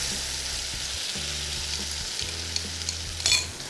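Sauce mixture hits a hot wok and sizzles steadily while the pan is tossed, with a few stirring scrapes and a brief louder clatter near the end; no talking.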